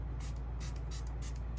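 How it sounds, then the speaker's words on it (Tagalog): Issy True Flex All Day setting spray misted onto a face in several short, close bursts over a constant low background hum. "I'm going to be setting my face with the Issy True Flex All Day"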